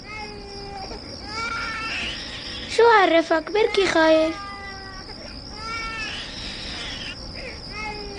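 A baby crying in short wailing bursts, loudest in the middle, with adults talking quietly in Arabic around it indoors.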